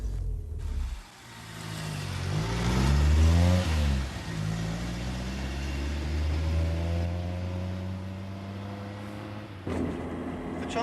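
A car engine revving and accelerating up a road near Clapgate Lane, a loud rising surge early on that eases into a steady mid-pitched drone as the vehicle cruises along.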